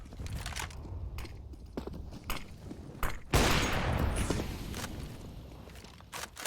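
Sharp bursts of rifle fire in a Counter-Strike esports match, several quick shots followed by a loud extended volley, mixed with footsteps and clatter in the game's ambience.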